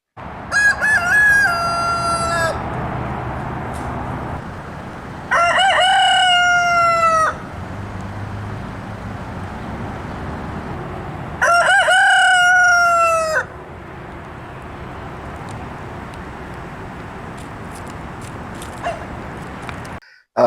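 Roosters crow loudly several times in long drawn-out calls among a flock of chickens, with quieter clucking and outdoor noise in the gaps between calls.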